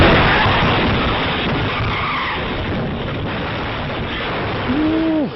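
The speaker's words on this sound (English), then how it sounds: "That white SUV came right into the path of the bus, and the force caused it to push 50 feet." A white SUV struck by a bus in news footage: broad, rough roaring noise with skidding and grinding texture throughout, then a brief higher squeal near the end.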